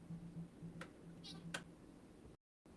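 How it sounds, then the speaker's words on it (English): A cat sitting on a table gives a couple of faint, short meows amid light ticking and clicks, in a quiet room. "I've got a cat on my table."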